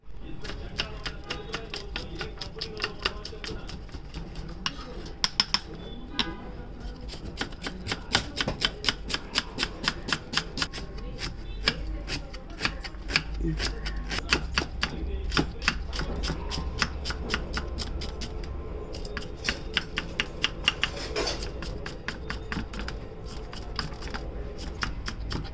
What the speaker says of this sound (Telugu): ఇప్పుడు వీటిని సన్నగా ముక్కలుగా కట్ చేసుకుందాం